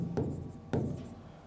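Marker or chalk strokes on a board while a maths problem is worked out, two short scraping bursts a half-second apart, close and fairly quiet, with no talking.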